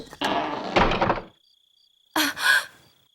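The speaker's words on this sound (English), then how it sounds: "Let me open the door for you." A door is opened up close: a solid thunk and rattle of the latch, then after a brief pause a second short knock-like clunk as it swings.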